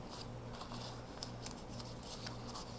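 Soft, papery crinkles and light taps from strips of colored paper being folded over one another, quiet and close, with a gentle low hum underneath.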